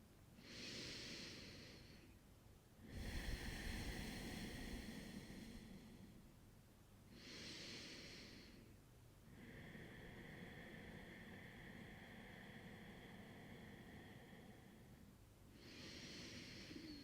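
Slow, audible yoga breathing during a gentle hip-opening practice: three long inhales and exhales in an even rhythm, airy and close, in an otherwise quiet room.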